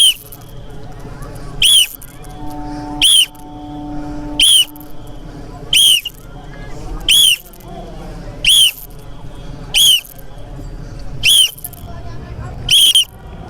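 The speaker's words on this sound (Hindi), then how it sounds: "चेंज, सीटी पे चेंज करना है।" Shrill whistle blasts during a PT drill at a defence training academy, about nine short sharp toots at a steady rhythm roughly every second and a half, over background voices.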